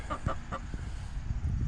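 A chicken outdoors clucks close by in a quick burst of three sharp notes, followed by softer scratchy movement and faint background noise.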